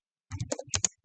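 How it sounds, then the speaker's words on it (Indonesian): Keys clack on a computer keyboard while configuration commands are retyped for a network switch in a computer networking lab, a quick run of close, distinct keystrokes after a short silence. "Kita ketik ulang"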